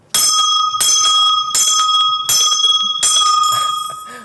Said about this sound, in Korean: 오늘 또 힘을 좀 실어주는 종소리였습니다